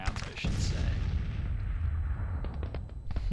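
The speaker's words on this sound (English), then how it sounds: "So that was the artillery firing." Artillery fires in a Civil War strategy game, with a sharp boom at the start followed by a rumbling roll and a scatter of distant cracking shots, under faint background noise.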